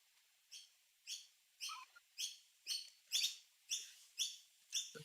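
Birds chirp in a steady series of about ten short, bright calls spaced roughly half a second apart, fairly quiet and with no one talking over them.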